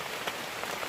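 Light rain falls steadily on surfaces in a rainforest on a morning search for Rafflesia, a soft continuous patter heard close and alone for about a second.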